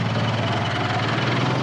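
A farm tractor with a chisel plow hooked up idles steadily up close, a loud, even low rumble that holds without change throughout, with no talk.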